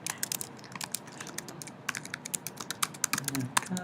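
Fingers type on a computer keyboard in quick, uneven bursts of close, crisp clicks and taps that speed up toward the end, with faint speech underneath.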